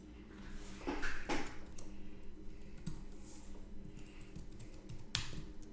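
Bursts of fast clacking keystrokes on a computer keyboard during a live coding session, close and fairly quiet, with brief pauses between flurries and a faint room hum underneath.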